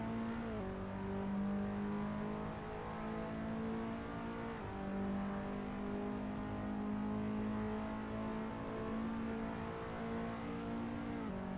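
A race car engine in Assetto Corsa at Interlagos, a skip barber car with a steady buzzing drone and two distinct drops in pitch on heavy downshifts, heard alone at moderate level.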